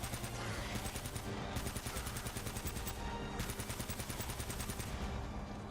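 Rapid automatic gunfire in the video game Uncharted: Drake's Fortune rattles on without pause, loud bursts running together at a steady fast rhythm.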